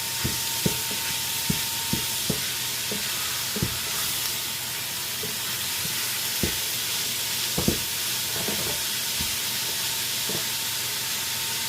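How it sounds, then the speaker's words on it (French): Food sautéing in a pan for tartiflette, a steady sizzle and hiss with occasional clinks of a utensil against the pan, close and continuous with no talking. "je fais revenir"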